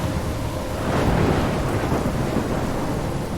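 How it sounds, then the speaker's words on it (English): A thunderstorm with rain in the game Life is Strange: heavy, steady downpour with a rolling thunder swell near the middle, loud and enveloping throughout. "I'm trapped in a storm?"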